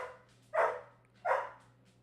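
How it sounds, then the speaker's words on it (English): Two sharp dog barks, roughly 0.7 seconds apart, sound indoors at moderate distance over a steady low hum, with no talk. "ignore the dogs in the background"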